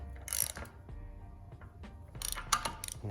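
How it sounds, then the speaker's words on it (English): Torque wrench ratcheting and clicking while tightening a crank sensor on an aluminum 5.3 engine, a few close, crisp clicks and clatters separated by quiet pauses. "I don't know what the torque is on that, but we'll call it clicked."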